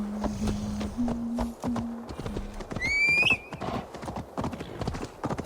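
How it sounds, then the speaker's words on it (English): A rider's mount trots through snowy Jotunheim woods in Assassin's Creed Valhalla, hooves clip-clopping in a quick, close rhythm, with a high whinnying call partway through. "I get to ride a reindeer here."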